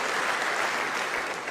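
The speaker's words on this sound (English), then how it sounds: "now they're cheering for the king" Members of Congress applaud and cheer for King Charles III, a dense, sustained roar of clapping filling a large chamber with no one speaking over it.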